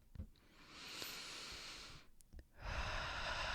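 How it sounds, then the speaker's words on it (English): A slow, deep breath during a guided meditation: a soft breathy inhale swells and holds, pauses briefly, then a long airy exhale follows, close and quiet with no talking. "let's take another deep breath"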